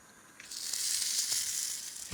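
Food frying in hot oil for a Nonya-style Malaysian dish, with a soft hiss that swells into a loud, bright sizzle with a few pops before easing off.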